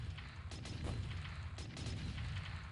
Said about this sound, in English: I was hoping for a much larger explosion, however, it was only a small one